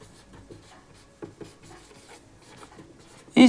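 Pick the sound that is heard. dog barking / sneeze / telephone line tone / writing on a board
writing on a board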